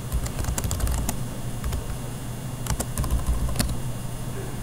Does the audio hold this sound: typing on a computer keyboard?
yes